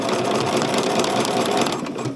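Sewing machine stitching steadily all the way around a seam on a Simplicity 9780 garment, a continuous close, fairly loud whir without a break.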